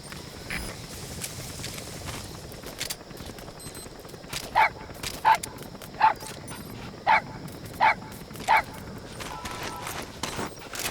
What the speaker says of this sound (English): Dog pup. He's a tough little guy.